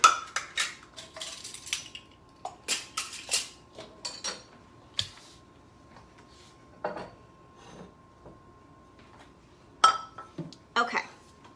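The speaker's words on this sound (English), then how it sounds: "So I've got my casserole dish. Let's see if we can make a little bit of room and load this baby up." Metal utensils clink and scrape against a casserole dish as hot beef ricotta casserole is spooned in, in a series of sharp, close taps with quiet pauses between.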